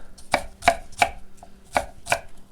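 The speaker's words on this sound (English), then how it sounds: "So I actually chop it up pretty small." A knife chops an ingredient small for crab cakes on a cutting board, five sharp, close thuds at an uneven, unhurried pace with brief gaps between strikes.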